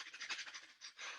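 Fire breath, a rapid breathing exercise done in a wellness session: quick, rhythmic, forceful breaths through the nose, close and steady, no talking.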